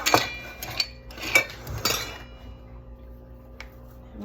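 A glass or ceramic pie dish for a pumpkin pie is handled, giving several clinks and knocks against utensils and a counter in the first two seconds, followed by quiet with one faint tap.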